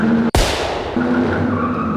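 A car skids hard on a street in The Sims 4, a loud sharp tire screech that cuts in abruptly and then trails off into steady road noise and engine drone.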